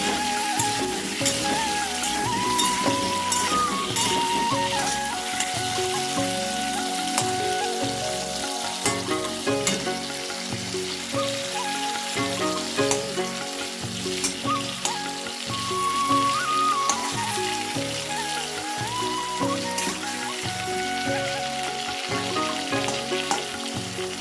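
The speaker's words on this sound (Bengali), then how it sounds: "এখন আলু কাটা ভাজা হচ্ছে দেখো।" Cut potatoes fry in a pan with a loud, continuous sizzle that sounds almost like hissing rain. It runs unbroken for over twenty seconds, with faint stirring clicks now and then and no voices.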